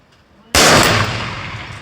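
A single loud, sharp report from a service rifle fired in slow prone string fire at a range, bursting suddenly and ringing out with a long decaying echo.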